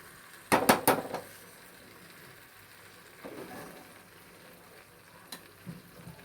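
Masala for butter chicken being sautéed in oil in a pan: a quick cluster of clattering spatula-on-pan scrapes and stirs, then a quieter sizzling stretch with a few more light clinks near the end.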